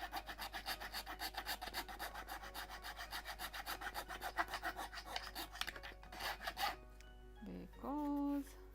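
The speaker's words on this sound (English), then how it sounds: "I need to sand it properly" Sandpaper is rubbed back and forth over a chipped plywood bulkhead of a 1:76 Mayflower ship model, a rhythmic rasping scrape at about two to three strokes per second. The strokes stop near the end, and a brief tonal squeak or voice follows.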